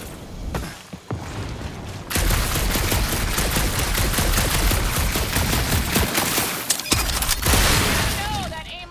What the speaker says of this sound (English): that aimless shooting isn't gonna scare the monsters away, right?